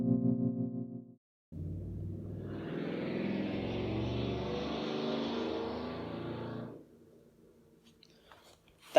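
Drag racing cars roar outside an apartment: a loud, steady engine rumble swells in, holds for several seconds, then drops away, leaving faint scattered noise.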